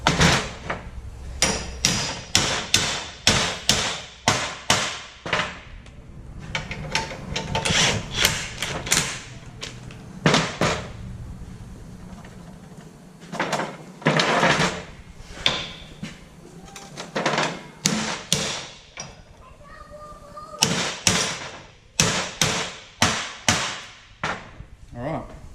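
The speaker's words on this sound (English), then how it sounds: "Just give them a little knock around there" A hammer knocks on vehicle leaf springs during a leaf-flip lowering job, striking in rapid bursts of sharp, loud metallic hits with brief pauses between runs, near and clear.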